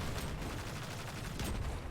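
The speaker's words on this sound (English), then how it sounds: "We're going to start out by shooting these bombs on the wall." Dense, continuous gunfire and blasts from Destiny 2 as a player shoots bombs on a wall in a Lost Sector, loud and rumbling without a break through the whole stretch.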